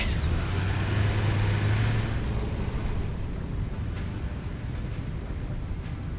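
Rumbling truck engine from the game Satisfactory rolls past in a low, steady drone that gradually fades after the first couple of seconds, with no talk over it.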